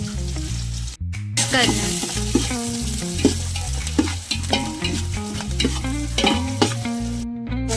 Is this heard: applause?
no